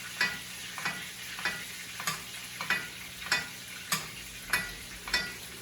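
Porterhouse steak frying in butter, a steady sizzle punctuated by regular scraping or basting strokes roughly every half second, close and moderately loud with no talk.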